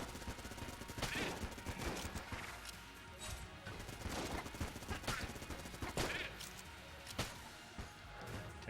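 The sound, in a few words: gunfire from a gun in the video game Enter the Gungeon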